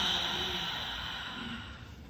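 A long, steady exhale closes a breathing exercise in a healing class, a soft breathy rush of air that fades gradually over about two seconds, close and alone without talk.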